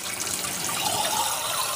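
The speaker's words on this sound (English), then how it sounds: "fill the same jars with really hot water" Hot water runs steadily from a kitchen tap into glass canning jars, a dense, continuous rushing splash close by with no talking.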